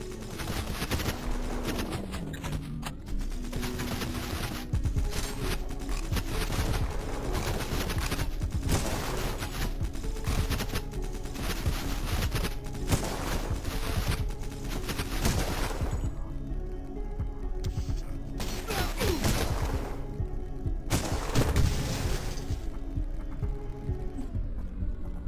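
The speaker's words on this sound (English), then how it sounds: "Oh, it is a flare gun." Rapid, heavy gunfire and explosive bursts from the retro horror shooter Cultic, including a flare gun, form a dense, continuous barrage of loud repeated shots layered over a throbbing game soundtrack.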